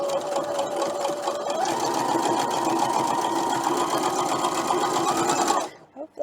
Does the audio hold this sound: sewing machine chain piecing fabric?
yes